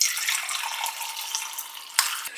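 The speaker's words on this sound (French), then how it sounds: "Je viens ajouter mon eau chaude." Hot water poured from a kettle into a mug with a tea bag, a steady close trickling stream lasting a couple of seconds, ending with a small clink.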